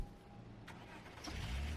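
A car engine turns over and catches in a short sound effect within podcast narration, faint at first and then settling into a low rumble.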